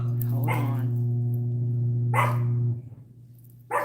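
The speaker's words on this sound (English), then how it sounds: "And the puppies are going crazy." Puppies at home barking and yipping in short sharp bursts, three clusters over a steady low hum, fairly close and loud.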